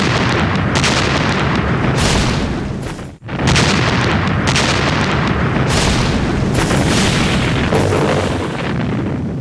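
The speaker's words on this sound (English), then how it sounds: "they were hit by a huge Soviet artillery bombardment" A huge Soviet artillery bombardment at Kursk in July 1943 pounds German lines, a loud, continuous wall of booming rumble with overlapping blasts that breaks off briefly in a single short lull before resuming.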